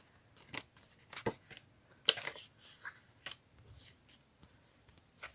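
Paper bingo cards and tags are handled and shuffled close by in a quiet room, giving soft, scattered rustles and a few sharper flicks.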